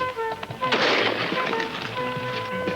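A shotgun fires during a dove hunt in Mexico, one loud sharp blast followed by a brief echoing decay against a steady background drone.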